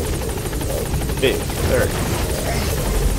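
A video-game helicopter drones steadily throughout, its rotor noise filling the background while a player speaks briefly over it.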